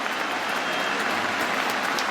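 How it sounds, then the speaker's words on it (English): Cricket crowd at the Oval breaking into loud, sustained applause and cheering for England's leading run scorer reaching a hundred in his last match, a dense continuous roar. "The crowd go berserk"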